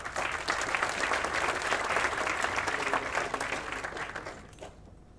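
Sustained audience applause at a University of Auckland law awards ceremony, a dense, steady clatter of many hands that holds for several seconds before thinning out and stopping near the end.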